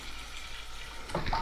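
Cold water poured into a cooking pot for making sadza, a soft, close splashing trickle that builds toward the end of a brief moment.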